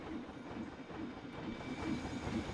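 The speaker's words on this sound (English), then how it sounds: "I love hearing that train." A train rides its track in the Planet Coaster park game, giving a faint, steady rumble with soft rhythmic clacking and a light hiss throughout, with no talking.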